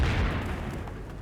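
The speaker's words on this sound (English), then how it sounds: "Bunker now under fire." Gunfire rakes a bunker in Company of Heroes, a dense low rumble of booms and bursts loudest at the start, then settling into a steady crackling barrage with no voices.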